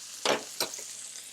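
Butter sizzles in a hot pan for a honey butter garlic sauce, with two sharp bursts of crackling spatter as it is stirred, then a steady low hiss, close up and with no voices.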